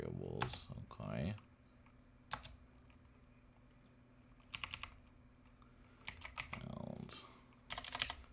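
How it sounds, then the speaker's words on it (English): Keys clatter on a computer keyboard during coding in short, irregular bursts of clicks separated by pauses, up close, while someone talks now and then. "I gotta work on my typing anyway"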